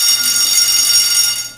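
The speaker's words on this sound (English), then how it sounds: "My story starts with a loud 6-period bell ending class" A loud school class-change bell rings continuously at the end of a sixth period, a dense metallic clang that fills the space steadily before cutting off.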